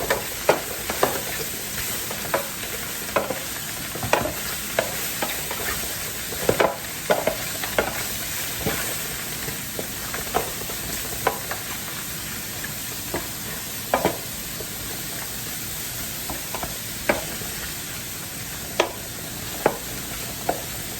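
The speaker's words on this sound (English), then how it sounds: "Now I am going to start off with the sausage. I'm going to brown that first." Sausage for jambalaya browns in a pan with a steady low sizzle, punctuated throughout by scattered clicks and scrapes of stirring, moderately quiet and close, with no one speaking.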